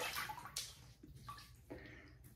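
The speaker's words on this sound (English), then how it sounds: "I'm gonna wet the face and get started" Water splashes and runs in short bursts at a bathroom sink as a face is wetted before a wet shave, close and moderately loud with brief pauses between splashes.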